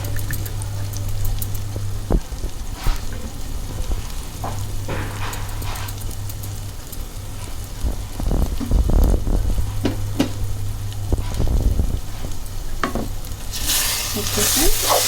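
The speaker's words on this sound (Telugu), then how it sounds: "ఇప్పుడు మనం ఏదైతే తీసుకున్నామో కొత్తిమీర, పుదీనా ఉంది కదా, ఇది వేసేసుకుందాం." Taro root curry sizzling and frying in a pan as coriander and mint are stirred in, with a steady loud sizzle, scraping spoon strokes throughout and a brighter hiss near the end; no talking.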